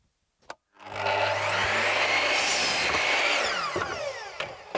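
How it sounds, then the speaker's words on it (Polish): Wooden boards cut with a power saw while building a pasture cage for broilers: one sustained, loud cutting run of about three and a half seconds, with a brief knock just before it and the blade winding down at the end. "No i tak tniemy 4 dechy"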